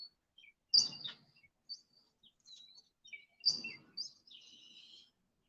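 Small birds chirp outdoors in short, bright bursts, a few separate calls and twitters close by over an otherwise quiet background, with no voices.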